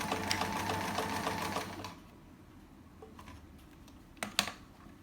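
A sewing machine runs a short burst of test stitches, a steady whirring rattle for about two seconds that then stops, followed by faint handling clicks nearby.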